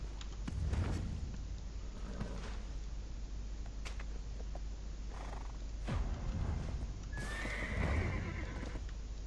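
A horse whinnies and neighs close by, with hoof clip-clops and thumps on hard ground over a steady noisy background, loudest in bursts near the start and end.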